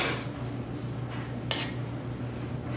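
A knife slices through a homemade cream-filled chocolate eclair on a kitchen surface, giving a short soft cut and a light clink of utensils against a dish, heard alone and fairly quiet.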